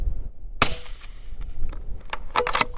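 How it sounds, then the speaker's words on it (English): A Howa 1500 rifle fires at a target 400 yards away, one sharp, loud close crack followed by a quick decaying echo and a second faint distant report. "No wind hold, first shot."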